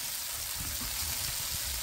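Cumin seeds, bay leaf, onion and garlic sizzle in hot oil in a pan, a close, steady hiss and crackle that holds for the whole moment with no pause.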